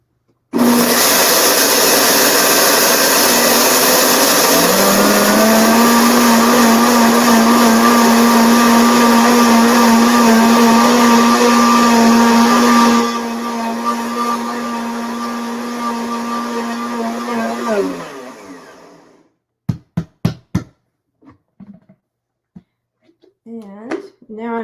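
A blender grinds dry picnic-baking ingredients into flour with a loud, steady whirring roar that holds for about twelve seconds, drops to a lower drone, then winds down and stops, followed by a few clicks and knocks of the lid.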